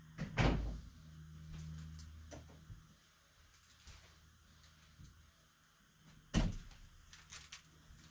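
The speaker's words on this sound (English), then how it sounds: "I also shut my door." A room door shut at close range, one solid thud with a short rattle near the start, later followed by a second sharp knock-like impact, with quiet handling noises in between.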